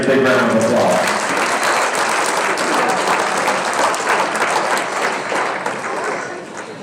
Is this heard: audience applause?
yes